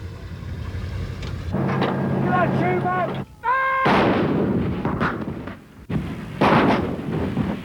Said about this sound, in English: The M110 Howitzer is an artillery piece mounted on a mobile platform.